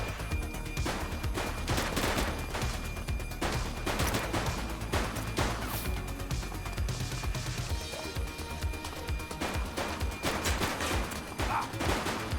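Gunshots in the video game The Precinct, a police game: dense, continuous rapid fire and bangs layered over loud game sound throughout, with no clear gaps.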